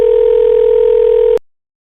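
A steady, loud telephone dial tone plays on a call to search and rescue, holding evenly for over a second before it cuts off abruptly into silence.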